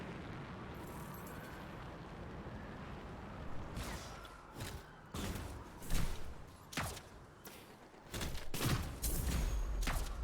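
LMG fire rattles in Anthem, rapid bursts starting midway and repeating in clusters over rumbling explosions and battle noise.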